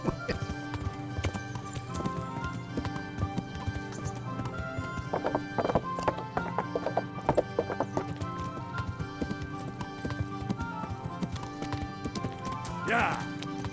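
Hooves of a ridden horse in the medieval game Kingdom Come Deliverance, a steady close clip-clop over nearly fourteen seconds with occasional whinnies, and a person talking over it.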